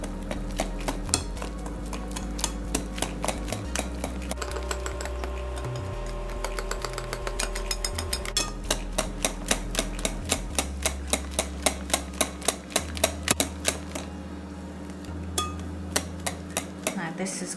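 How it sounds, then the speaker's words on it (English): A utensil beating fruit cake batter in a bowl, rapid rhythmic clacking and tapping strokes against the bowl repeated steadily throughout, close and crisp with brief pauses between bursts. "Now I'll keep mixing to make sure there's no lumps."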